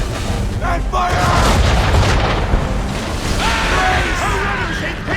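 Ship cannons in the Assassin's Creed 3 video game boom in a loud, sustained barrage. Heavy rumbling bursts overlap amid battle din and shouted voices for about five seconds.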